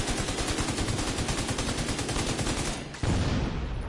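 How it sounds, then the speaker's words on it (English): Dense rapid gunfire rattles continuously in The Division 2 video game, loud and close, then breaks off briefly before a heavy low blast-like burst rumbles in near the end. "Did you see that explosion?"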